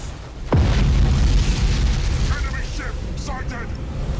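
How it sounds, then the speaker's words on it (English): A warp reactor blows in the space strategy game Battlefleet Gothic Armada 2, a sudden deep boom that swells into a long rumbling roar, with fainter game effects trailing behind. "Oh, he's decided to blow the warp reactor."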